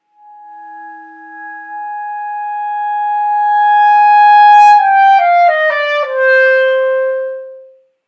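A clarinet holds the opening B flat of the Weber Concertino, a clear sustained tone swelling in loudness before it cracks into a lower undertone and wavers through several brief pitch breaks, then fades out, played alone and close.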